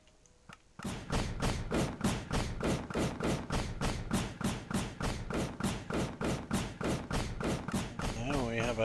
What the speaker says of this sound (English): Now we have a wind charge machine gun right now